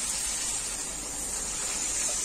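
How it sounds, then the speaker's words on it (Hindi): Water pours steadily into a pan of lightly fried mixed vegetables (potato, carrot, peas), a dense continuous gushing splash at close range with no talk over it. "अब इसमें मैं पानी ऐड कर दूंगी"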